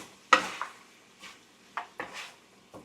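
Spoon stirring ginger and onion in a pan for a pork spareribs curry, giving a few scattered scraping clinks and light sizzles at close range with short pauses between them.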